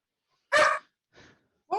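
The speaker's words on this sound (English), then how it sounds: "Say hello to my lovely dog." A pet dog named Cosmo gives two or three short barks, the first loud and close, the second softer, and the last clipped at the end, with quiet gaps between them.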